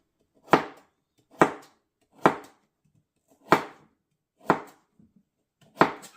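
A knife chops an overgrown zucchini into chunks on a board, six sharp, evenly spaced thuds about a second apart, close and clean with silence between strokes.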